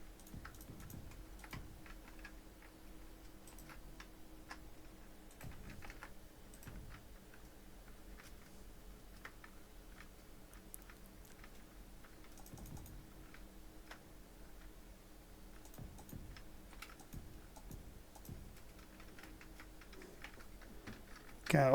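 Soft, scattered clicks of keys being pressed on a computer keyboard while playing Space Engineers in survival mode, tapping in irregular bursts under a low steady hum, close but quiet.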